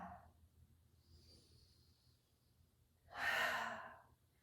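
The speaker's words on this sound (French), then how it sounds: "Et on expire par la bouche." A single strong mouth exhale during a yoga breathing exercise, rising and fading over about a second near the end, with quiet near-silence before it.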